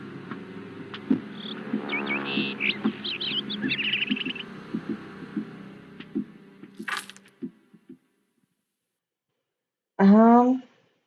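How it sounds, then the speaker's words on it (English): Bright bird chirps from the Murder, She Wrote video game, repeated in short quick bursts, sit under a person talking over the game, followed by a pause and one louder, rising call near the end. "There is a bird"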